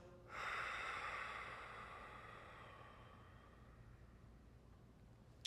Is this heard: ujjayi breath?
yes